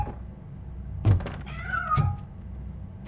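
A cat meows in Robocop: Rogue City, a single drawn-out cry rising and falling between two dull thuds, close and clear over a low steady background hum.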